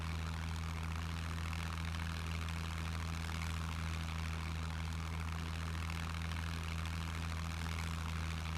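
Steady propeller engine drone of a floatplane flying in the survival game SCUM, a constant low hum with strong tonal bands, loud and unbroken throughout with no talk.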